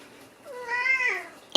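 Poki, a Siamese cat, lets out a single drawn-out meow that rises and falls, heard close and fairly clear, followed by a sharp knock at the very end.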